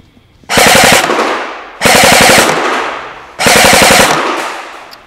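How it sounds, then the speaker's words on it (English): A King Arms OA-15 M8 airsoft rifle fires on full automatic at a shooting range, producing three loud, rapid bursts of roughly a second each with short pauses between. "I'm going to switch to full automatic on the gun, and we'll see how it does"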